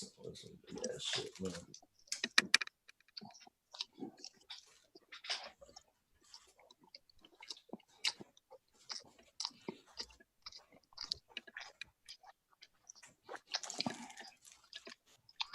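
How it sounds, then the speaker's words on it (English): Close, crunchy chewing of a McChicken sandwich, with wet bites and crackles coming in irregular bursts, while people talk in between. "They got that crunch from that McChicken."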